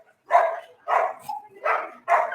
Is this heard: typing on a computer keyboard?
no